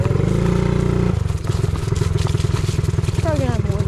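Small mini bike engine chugs with a rapid pulsing putter, its note shifting as it drops into first gear, close and loud throughout.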